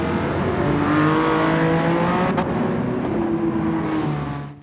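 A BMW Vision Gran Turismo concept car in Gran Turismo 7, with a 3-litre twin-turbo inline-6 making 542 horsepower, revs loudly and continuously as its engine pitch rises and shifts, with a brief gear-change dip near the end.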